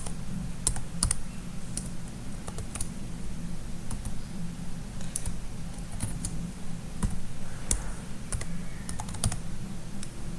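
A Python program typed on a computer keyboard, with steady close key clicks and taps in an uneven rhythm over a constant low hum, and no talk.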